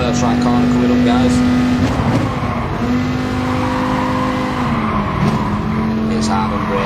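Race car in a racing video game at Suzuka, engine note holding high then dropping as it brakes hard, easing off and getting back on the throttle through the turns, loud and continuous with a voice talking over it.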